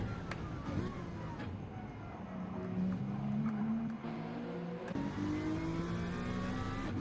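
Onboard race car engine from a sim racing game at the Nürburgring GP circuit, a steady loud drone with rising and falling pitch through gear changes, with faint commentary voices underneath.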